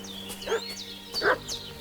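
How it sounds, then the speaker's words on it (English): A dog in the medieval village setting of Kingdom Come: Deliverance II barks and yips in a few sharp bursts at middle distance, agitated and fussing, over a low steady background hum. "What's that dog making such a fuss about?"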